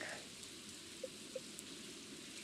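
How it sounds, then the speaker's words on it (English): Steady soft rain patters down in the Stardew Valley farming game, a quiet continuous hiss with a couple of small drip plinks and no one talking. "I can't even talk to him because it's raining"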